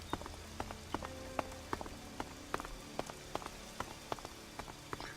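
Rain falls steadily in the video game ELEX, a soft, even patter with sharp individual drops tapping at a fairly regular rhythm, faint and alone.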